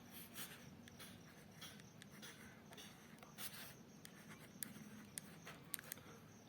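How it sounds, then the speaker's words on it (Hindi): A pen scratches across paper in quick strokes and pauses, soft and close, with occasional sharper taps and scrapes and a faint room hush beneath, no talking. "मैं लिख रहा हूं"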